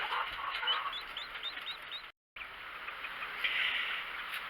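Hens cluck in short, repeated calls over a steady bed of insect-like hiss in a chicken coop, moderately close, with a brief dropout midway and no talking.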